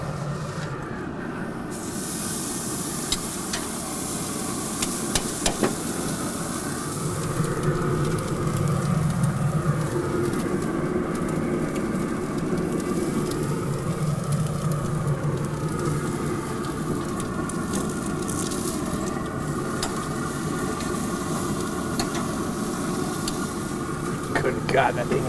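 A large porterhouse steak searing over the open flame broiler of a Pit Boss grill, a steady loud hiss and sizzle running unbroken throughout with no talk over it.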